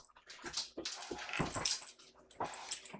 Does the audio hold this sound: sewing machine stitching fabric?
no